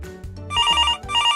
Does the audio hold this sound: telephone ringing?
yes